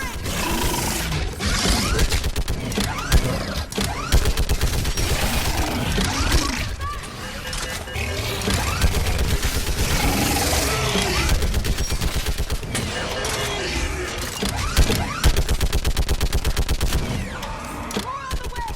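Dense rapid gunfire rattles through a Mass Effect 3 battle, sustained automatic bursts crackling loudly and almost without pause.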